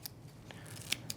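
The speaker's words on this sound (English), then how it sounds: "you got a good pair of scissors. It's going to clean it up real nice." Scissors trimming Flashabou skirt material on a trolling lure, giving a few quiet, crisp snips with sharp clicks spread across a brief, soft moment.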